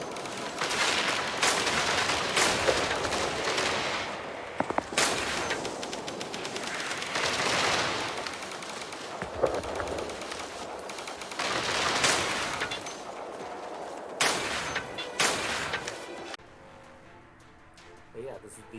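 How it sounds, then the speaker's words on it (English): Bursts of rapid automatic anti-air cannon fire in Angels Fall First, loud repeated volleys with short pauses between, someone talking over the shooting. "is pretty much the neutral anti-air weapon"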